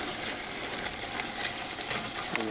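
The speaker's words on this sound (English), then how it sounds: "Just giving it a good stir before we add our final ingredient." Shrimp creole tomato sauce sizzling on a stovetop over medium heat while being stirred, a steady close bubbling and frying hiss with faint scraping, no voices.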